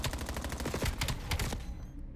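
Dense, rapid gunfire from a Call of Duty competitive match, with overlapping bursts rattling continuously for about two seconds before cutting off abruptly, loud and with no talk over it.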